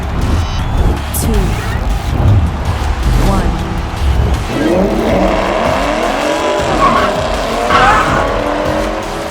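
Die-cast Hot Wheels cars, a 2007 Ford Mustang and a 1966 Ford 427 Fairlane, race down a double-lane curved toy track, giving a steady rolling whir with swelling whine over a constant loud background.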